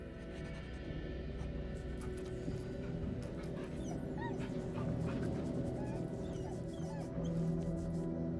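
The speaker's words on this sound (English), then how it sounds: "The dog is unable to speak through the small bag he holds." A dog whimpering in Baldur's Gate 3 with its mouth stuffed by a small bag, a steady muffled whine over a dense bed of game music and ambience.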